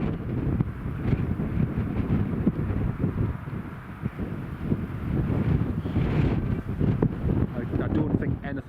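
Strong storm wind buffets a microphone at Newcastle Airport during Storm Ashley, a loud continuous roaring rush with gusting swells throughout.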